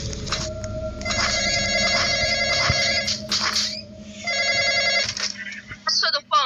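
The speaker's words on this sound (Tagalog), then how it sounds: "answer the phone" A phone rings loudly and close in a video game with a repeated electronic trill, sounding in two long bursts with a short gap between them while a voice speaks over parts of it.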